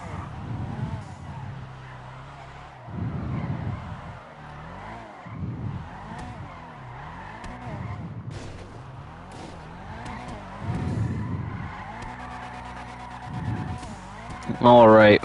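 Car drifting in GTA Online: a revving engine rises and falls in repeated bursts, tires squeal, and a sharp loud squeal comes at the end, with voices talking over it.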